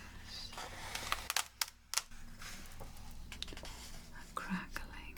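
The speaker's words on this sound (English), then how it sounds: "A crackling of the pages." Paper crackling and rustling as thick pages of a fairy tale book are turned, close and soft, with a few sharper crinkles and flips over a quiet, whispery room background.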